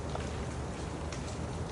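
Steady rain falling on a slick city pavement, a dense, even hiss of drops throughout with no voices.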